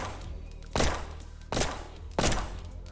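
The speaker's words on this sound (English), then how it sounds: "So if you want to fire, we press the left mouse button" Three loud, close bursts of gunfire from the player's weapon in the video game Project Haven, each a sharp blast with a short rattling tail, spaced roughly evenly over a low background hum.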